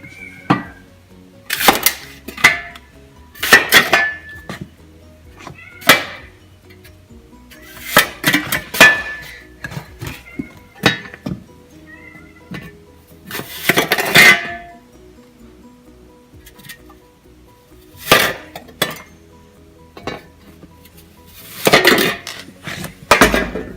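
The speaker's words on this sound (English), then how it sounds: "So for this, I'll just use a small hand spade. So I'll just chop those up." A small hand spade chops hard horse feed, giving sharp clinking, scraping impacts in irregular bursts, close and fairly loud, with quiet gaps between strokes and no talking.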